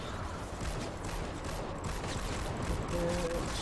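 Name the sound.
gunfire from the video game Fortnite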